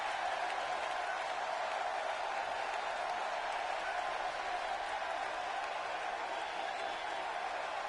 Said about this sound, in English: This Denver crowd has been rocking all night with these matches.